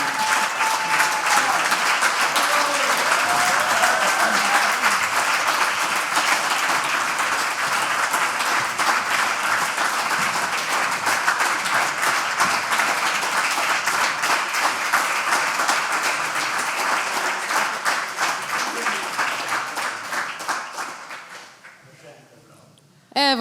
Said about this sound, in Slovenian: Dajmo še enkrat zaploskati.